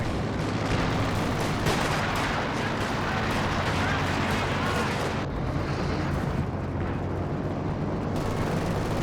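High explosive shells pound away in a Company of Heroes 2 battle, a dense continuous roar of booming artillery and gunfire, loud and close throughout, with a sudden break in the din partway through.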